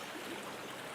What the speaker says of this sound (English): It's just that lovely sound of the water.